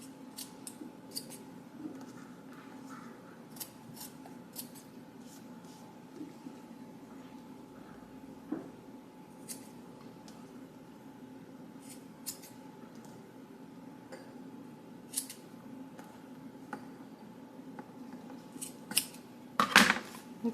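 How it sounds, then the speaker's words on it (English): Scissors cut paper pieces for a beach bag scrapbook mini album, a string of quiet crisp snips at uneven intervals over a faint steady hum, with a busier rustle near the end. "So now, just cut these pieces here off."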